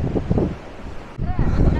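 Wind blows across a beach at Mudhaliyar Kuppam island, rumbling and buffeting against the microphone in uneven gusts that strengthen near the end, while a person talks faintly underneath.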